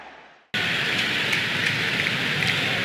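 Steady hiss of heavy rain falling over a football stadium in Catalonia during a Barcelona versus Real Madrid match, cutting in abruptly and continuing as a dense, even wash of noise.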